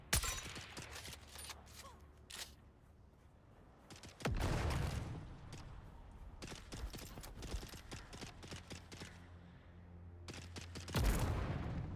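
Gunfire in the video game Dune: Awakening: scattered sharp shots and rapid bursts of varying loudness, some close and some farther off, with brief gaps between volleys.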